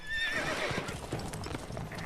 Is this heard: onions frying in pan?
no